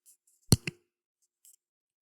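Computer mouse clicks, a close pair of crisp clicks followed after a pause by a faint single click, in a quiet room with no talking.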